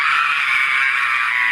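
An actress letting out a huge scream during a local TV news interview, one loud, sustained, high-pitched shriek held steady and close throughout without pause.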